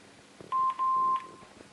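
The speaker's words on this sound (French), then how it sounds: "Et là, mon téléphone se met à appeler." Telephone keypad tones during a click-to-call dialing through OVH, two clear steady beeps, one short and one longer, over a quiet background.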